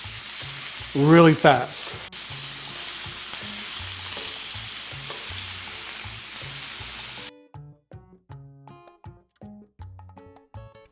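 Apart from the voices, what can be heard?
flank steak sizzling on the grill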